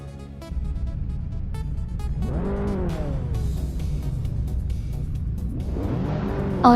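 Race cars, among them a 2012 Lexus GS 350, launch from the start at Sydney Homebush Street Circuit, engines revving up hard in two rising surges with a steady rumble between, loud and close, no talk.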